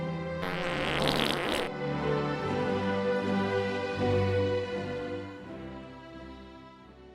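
A comic fart sound effect in a radio advert: a loud, broadband splutter at the start, then a long drawn-out tonal fart that warbles and sustains before trailing off, with no talking.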